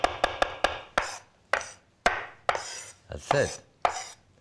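A kitchen knife chops fresh parsley on a cutting board in sharp, distinct strokes, about a dozen crisp knocks in an uneven rhythm, close and clear, with a brief spoken remark near the end.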